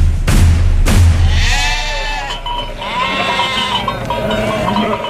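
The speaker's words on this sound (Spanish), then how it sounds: "2 grandes manadas de ovejas y carneros que por aquel mismo camino de 2 diferentes partes venían" Two large flocks of sheep and rams bleat loudly and close by, with overlapping wavering cries after a couple of heavy thumps at the start.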